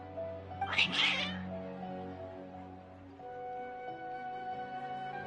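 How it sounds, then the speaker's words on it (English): Cats in the Genshin Impact video game let out a drawn-out, agitated meow followed by lower, softer wails, heard over a sustained musical tone in the background, with no one talking. "Your cats seem pretty worked up."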